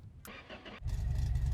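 A Lada wagon engine built from used parts cranks briefly, then fires and catches, settling into a loud, steady running rumble close by.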